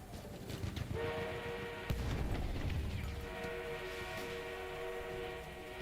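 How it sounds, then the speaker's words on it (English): Rumbling armored train on the move in Battlefield 1, a steady heavy mechanical drone with a sustained horn-like tone and a sudden booming impact near the two-second mark, continuous throughout. "An enemy armored train is en route."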